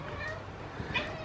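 Archie, a young and portly house cat, gives a soft, faint meow against a quiet indoor background, brief and close.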